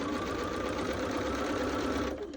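Sewing machine stitching a quilt seam, a steady, fast, continuous mechanical whir held close and loud, easing slightly near the end.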